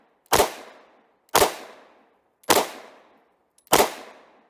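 Four sharp gunshots from a Romanian TTC Tokarev pistol in 7.62x25mm crack out at an even pace about a second apart, each loud and close with a short decaying tail, no voices.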